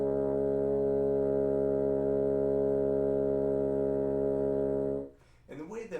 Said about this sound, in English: it produces a pretty nice muffled low C sharp